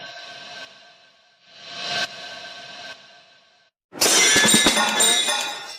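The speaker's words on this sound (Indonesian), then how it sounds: "Hancur. Ini barang antik" An antique piece shatters with a loud, bright burst of breaking crockery and scattering shards, set against a palace scene, following earlier hissing noise.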